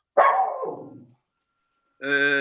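A dog barks once in a long, loud, close yelp that trails off, followed after a short pause by a harmonic voiced sound.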